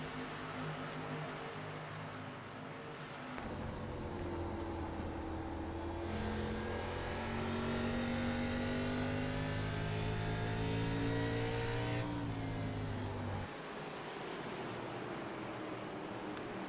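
ARCA Series stock cars race at Richmond, with loud engine roars and high revving whines sweeping past one after another in a steady, continuous pack of traffic.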